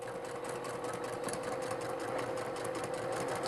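A sewing machine runs steadily, stitching a seam on a batik quilt block, its fast motor hum and needle clatter continuous and close with no talking.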